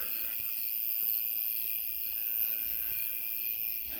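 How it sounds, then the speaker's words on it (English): Crickets and other night insects chirp in a steady high-pitched chorus on a midnight walk far from town, continuous and fairly faint, with no voices. "All I can hear are the bugs"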